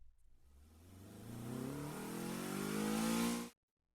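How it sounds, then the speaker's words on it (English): In a visual novel video game, a sports car speeds past traffic, its engine climbing in pitch as it accelerates over a few seconds, then cutting off abruptly into silence, close and loud with no voices. "Charlie's Navy sports car whizzed past freeway traffic"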